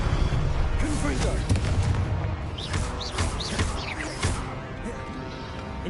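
Confringo spell blasts in Hogwarts Legacy combat, loud booming bursts with crackling hits and whooshes repeating in quick succession, a voice calling out spells throughout.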